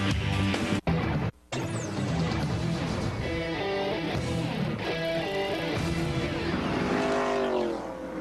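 Stock cars racing in the 1984 Daytona 500 at the finish, engines roaring loud and continuous with layered revving tones and brief dropouts, a dense wall of motor noise.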